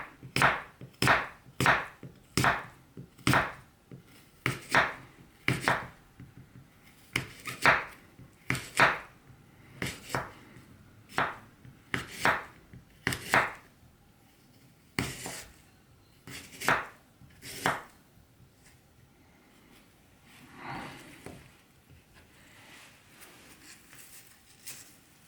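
A Bark River City Knife chops through an apple on a board, giving a quick series of sharp, close knocks in bursts with short pauses, then a softer scraping patch near the end.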